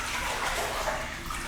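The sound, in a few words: water splashing as a pool noodle is pushed underwater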